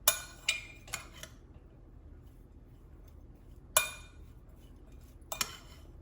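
A utensil clinks against a bowl while pancake seasoning is mixed, with a few sharp, bright taps in small clusters separated by quiet pauses, close and fairly soft.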